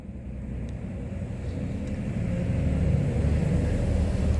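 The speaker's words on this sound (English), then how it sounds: "Just wait for the truck to go by" A truck passes outside, a low rumbling roar that swells gradually and grows louder toward the end, heard from indoors with no talk.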